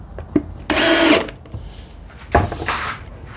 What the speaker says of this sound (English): I can put one of the screws in